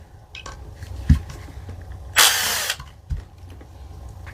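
A 2.5 mm hex driver backs out the last screw on a Barra 250z rail, close and alone: a few sharp clicks, then a half-second burst of gritty ratcheting, and another knock before it goes quiet.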